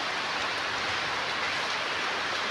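Steady, dense rain falling in a quiet rural forest area, an even wash of hiss with no breaks or voices.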